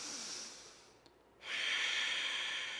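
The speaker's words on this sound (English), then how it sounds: "Our Ujjayi breath." During a floor yoga session, a slow Ujjayi breath hisses in a steady airy stream, pauses briefly, then returns as a stronger, louder whooshing exhale, close and without talk.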